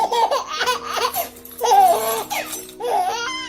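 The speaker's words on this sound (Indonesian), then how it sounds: "Suara bayi Kalimantan." A Kalimantan baby laughs and babbles in several bright, rising bursts with short breaths between them, close and fairly loud over a low steady hum.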